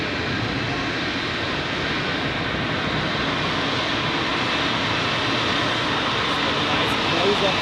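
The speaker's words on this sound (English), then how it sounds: "And the Swiss flight is going to the southern part of the airport." A Swiss airliner jet at Zurich airport gives a steady, loud, broadband engine roar that holds evenly throughout, heard from an observation deck.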